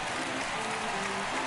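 A crowd in the MLB The Show baseball video game, Road to the Show mode with the Cubs, applauds steadily at a moderate distance, a continuous wash of clapping through the whole moment.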